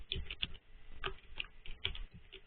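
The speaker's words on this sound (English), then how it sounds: "as they're typing" Several people tapping on computer keyboards at a library exchange program session, giving an irregular patter of soft key clicks with brief bursts and pauses, fairly quiet and without talk.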